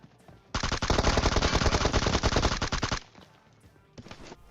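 Kar98 sniper rifle fire in PUBG Mobile rings out as a dense, loud burst of rapid shots lasting a couple of seconds, followed after a brief pause by a shorter second burst.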